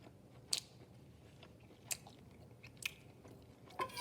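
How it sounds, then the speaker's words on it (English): A bite of smoked brisket flat is chewed up close, with four distinct crunchy bites spread over quiet, steady background noise. "Take a little taste test."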